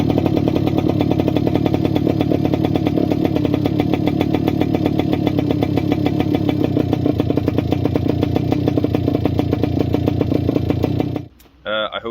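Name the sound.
motorcycle engine warming up and running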